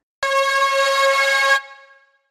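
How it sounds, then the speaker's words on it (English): A short synthwave synth-shot sample pitched at C#3 hits once with a bright, harmonically rich tone, holds steady for over a second, then cuts off into a brief fading tail, alone with no talk. "the sample that I want to use is this one over here, synth wave, synth shot, C#03. And it sounds like this"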